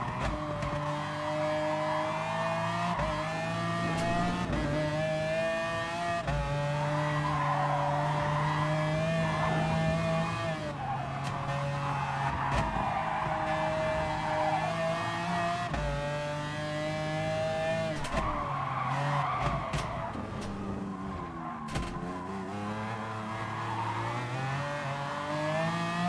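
An Alfa race car corners in Gran Turismo Sport, its engine droning and revving continuously with pitch sweeping up and down through gear changes, loud and close, with brief tire squeals.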